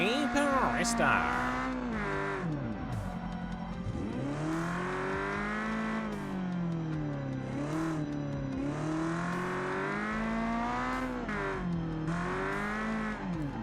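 Engine revving up and down with tyre squeal in a racing video game, a large but gutless engine swapped into a car; the rising and falling engine tone runs loud and steady throughout, with a voice talking over it at times.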